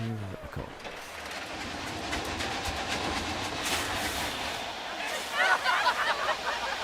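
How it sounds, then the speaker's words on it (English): A steam train ride in the Planet Coaster 2 theme park game rolls along with a steady, continuous rumble and rail clatter, joined by a faint murmur of crowd babble. "They are so excited to get up the old steam train there"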